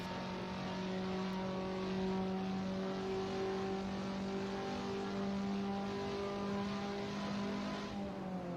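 A race car engine in a sim racing game at the Nürburgring drones steadily for several seconds, its pitch rising and falling gently as it holds speed, with no talking.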